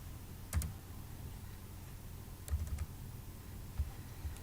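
Scattered, soft keystrokes on a computer keyboard while a document is drafted, a few isolated taps and short clusters over a quiet room hum.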